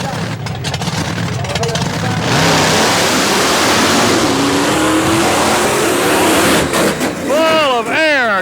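The Big Red monster truck's engine revs hard at a monster truck event, with a loud, sustained roar that rises and falls near the listener and rising whines at the end, while an announcer talks over it.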